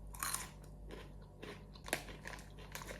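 Crisp bites and chewing of a cheesy Canadian snack from a bag, several quiet crunches spread across the moment with no one talking.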